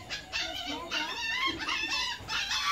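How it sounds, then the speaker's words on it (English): A dog whimpers and howls in a string of high, wavering whines that rise and fall in several drawn-out bursts, fairly close and alone. "now the dog start"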